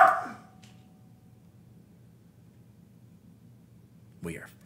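A pet dog named Toby gives a short, sharp bark at the start and another brief yip near the end. A quiet, steady indoor hum fills the gap between them.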